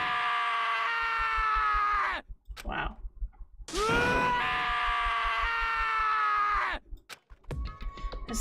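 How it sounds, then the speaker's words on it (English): A character in the video game Danganronpa: Trigger Happy Havoc screams in two long, loud, wailing bursts separated by a short gap, with a brief spoken word between them. "As Taka's sad screams invaded our skulls"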